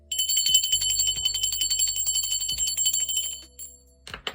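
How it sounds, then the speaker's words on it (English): A hand bell is rung during a spiritual ritual for spirit guides, giving bright, ringing metallic strikes about every second that sustain and overlap, then fade and end with a final strike. "I'm going to ring the bell for my spirit guides, guardian angels, and ancestors."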